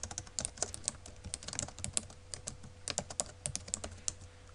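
Computer keyboard keys are tapped in quick, uneven bursts of crisp clicks, close and steady, typing out a drawing name with no voices.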